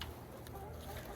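Backyard chickens in a garden run squawk and cluck together in a steady, busy chorus at close range, with no clear pauses across the short stretch.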